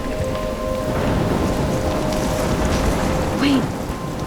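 Steady heavy rain and a thunderstorm in the video game Life is Strange, a continuous dense rumbling wash with thunder swelling throughout and a brief sharper accent near the end.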